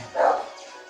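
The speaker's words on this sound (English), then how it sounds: "there goes the dogs" A single short, sharp bark from a robotic dog enemy in the Mega Man X4 video game, close and fairly loud, fading quickly with a faint tail of game sound.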